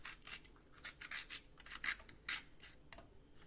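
Purple passion fruit pulp scraped out of its shell, a series of short, soft rasping scrapes in uneven bursts, close and fairly quiet with no talking.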